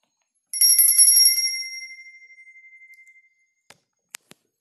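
A small liturgical bell rings for the blessing with the Blessed Sacrament: a bright, tinkling burst that fades over about two seconds, followed by a few faint clicks, with no voices.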